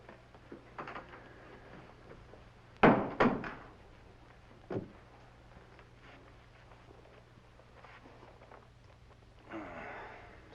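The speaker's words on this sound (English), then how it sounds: "Close that door behind you." Door in a back room of an old Western town pushed shut, a sharp close thump with a second knock right after, fairly near, then a fainter bump and quiet room tone, no talk.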